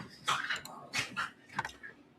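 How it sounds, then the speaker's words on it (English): Several dogs tussling and scuffling after being fed, with a few short bursts of growly yips and whimpers in a quick, uneven rhythm, fairly close but not loud. "the dogs just got fed, so they tussling a little bit."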